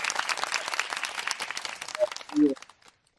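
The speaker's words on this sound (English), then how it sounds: "A round of applause for everybody who watching," A brief round of applause on a talk show, dense clapping that fades out after a couple of seconds, with a short tonal sound near the end.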